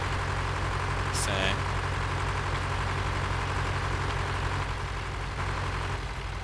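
A tractor engine in Farming Simulator 2013 drones steadily at a low pitch throughout, with a brief higher-pitched sound near the start.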